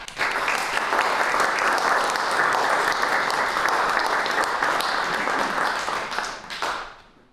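An audience at an artists' talk bursts into sustained applause welcoming Richard Tuttle and Martha Tuttle, dense clapping holding steady for several seconds before tapering off near the end.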